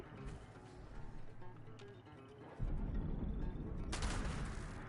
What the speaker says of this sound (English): Wonder if I shoot his turret,